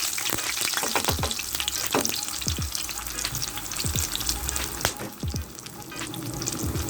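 Garlic, Scotch bonnet pepper and pimento seed sizzle steadily in hot oil for Jamaican escovitch fish, a dense continuous crackle with occasional sharper pops and stirring knocks, close and without talk.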